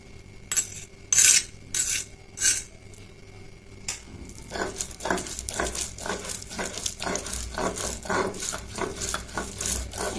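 A spoon mashes hot kalonji bharta made with black cumin, garlic, green chili, onion and salt, starting with a few loud clanks against the bowl, then a long run of quick, rhythmic scraping and squishing strokes close up, with no talking.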